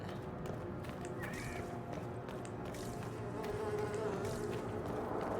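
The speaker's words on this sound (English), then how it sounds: "the flies sound isn't irritating me. I don't like the buzzing" Flies buzz continuously in the video game Dragon Age Inquisition, a faint droning hum that wavers as insects pass close, with soft ambient game noise beneath.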